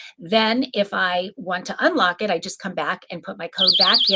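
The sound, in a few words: lock's 80 decibel alarm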